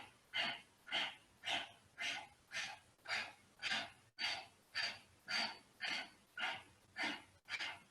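Deep rhythmic breaths during a yoga exercise, roughly a dozen loud, even inhale-exhale cycles repeating steadily at close range with no talking over them.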